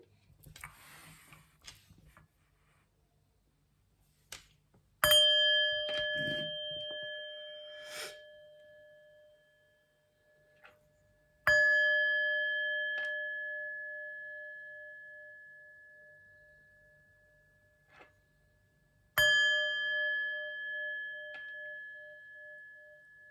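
A chime struck three times before a tarot reading, each strike a clear bright ringing tone with harmonic overtones that sustains and slowly decays, separated by quiet gaps with faint handling rustle.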